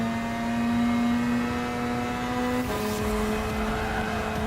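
A Mazda RX500 retro rotary supercar races in Gran Turismo Sport, its engine holding a loud, steady high-pitched buzzing whine before a brief gear-shift dip, then droning on close and continuous.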